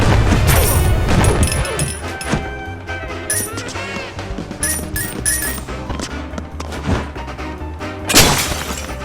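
A glass ceiling shatters in the Wii game Batman: The Brave and the Bold, loud crashes and tinkling shards bursting repeatedly over game music and thumps, with a final heavy smash near the end.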